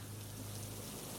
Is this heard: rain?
yes